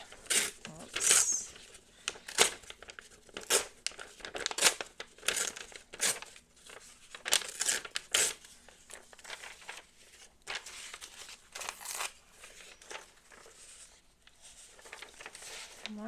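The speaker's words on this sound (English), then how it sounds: "maybe we will tear this edge" Paper is torn at its edge for a collage in a series of short, crisp rips and crinkles, close and fairly loud, with quieter rustling in between.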